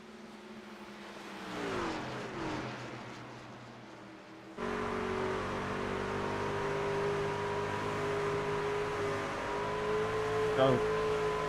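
Racing truck engines in a sim racing game at Homestead-Miami Speedway, a steady droning whine that shifts and jumps to a louder, sustained tone partway through.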